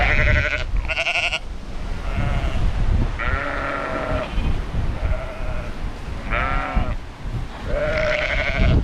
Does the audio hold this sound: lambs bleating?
yes